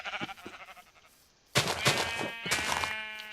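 Minecraft sheep bleating from a sheep farm being set up in the game: a soft bleat up front, then a louder burst of overlapping bleats after a short pause, repeating through the second half.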